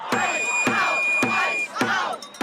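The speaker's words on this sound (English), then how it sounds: "crowds gathered to protest outside an immigration court, holding signs and confronting officers at the scene" A crowd of protesters outside an immigration court in Minneapolis chants loudly in a steady, evenly spaced rhythm, each shouted phrase landing on a regular beat.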